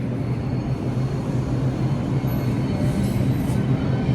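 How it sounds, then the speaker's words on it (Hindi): A New York metro train rumbles steadily at a station, a loud continuous low roar of rolling cars that holds constant throughout, with a faint high squeal near the end. "इस वक्त मैं मेट्रो स्टेशन पे खड़ा हुआ हूँ"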